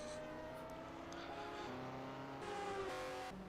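An Indy race car with a special V8 Drake engine runs in a 1978 USAC round at Silverstone, a steady, faint, distant engine drone with shifting tones and several brief gear changes, no voices heard.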